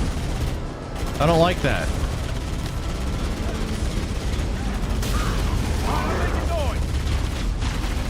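Rapid gunfire and bursts of shooting fill a hectic sci-fi shooter firefight, loud and continuous, while a player talks over the action.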